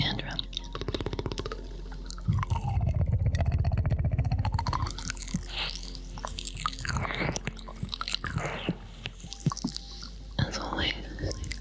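Close ASMR ear licking and fluttering mouth sounds, wet clicks, smacks and breathy tongue noises near the microphone, with a denser low rumble of contact a few seconds in and soft whispering throughout.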